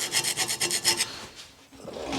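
Metal file rasping across a 1996 Ford's brake caliper parts in a backyard repair, about eight quick rhythmic strokes close and loud, then a pause and a slower scraping stroke.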